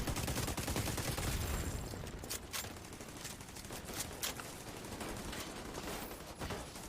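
Gunfire in Tom Clancy's Division 2, a dense, steady clatter of shots and impacts that stays loud and close for several seconds, with a few sharper cracks standing out near the middle and end.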